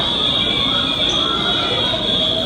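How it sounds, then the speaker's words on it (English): A fire alarm blares a steady, loud high-pitched tone during an active shooter training exercise, continuous and unbroken for the whole stretch. "There's a fire alarm going."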